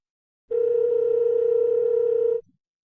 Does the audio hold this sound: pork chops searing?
no